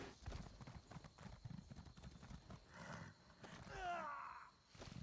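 Horse hooves clip-clop in Elder Scrolls Online as a mount travels through Cyrodiil, a steady run of mid-level footfalls mixed with other game sounds, with a brief sliding swell near the end.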